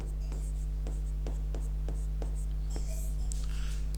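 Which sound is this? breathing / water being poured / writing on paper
writing on paper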